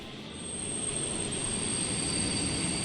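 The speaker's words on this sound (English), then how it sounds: "how often do the trains tend to stop at this station? Next one should be stopping right about now." A train pulling in and stopping at a station in the game Dialtown, a steady broadband rumble with a thin high whine, growing slightly and continuing throughout.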